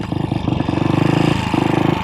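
A 1966 Royal Enfield Continental GT250 single-cylinder motorcycle runs close by, its engine thumping steadily with a loud, rhythmic pulse that swells as the throttle is blipped and revs rise and fall.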